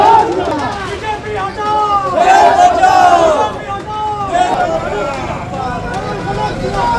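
BJP and Trinamool supporters argue and chant slogans outside a school in Asansol, West Bengal, a loud, dense crowd of overlapping shouting voices that swells and ebbs throughout.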